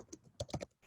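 Computer keyboard keys tap in a short irregular burst of about five quick clicks, close and soft with brief gaps between strokes, no voice over them.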